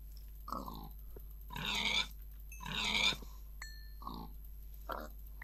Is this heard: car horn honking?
no